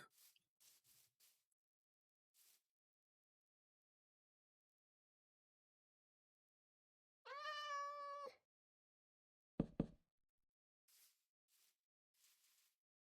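A cat in Minecraft lets out a single clear, drawn-out meow, loud and isolated amid near silence, with a few brief clicks and faint game sounds scattered before and after.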